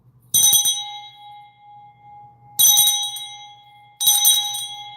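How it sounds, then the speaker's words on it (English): A bell rung three times with bright, ringing strikes that decay slowly, loud and close, each ring separated by a pause of a couple of seconds with no talking. "let me ring this bell"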